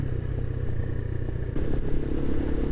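A motorbike being ridden on a warm, sunny day, its engine droning steadily close by with light clatter, then a slight rise in engine noise partway through.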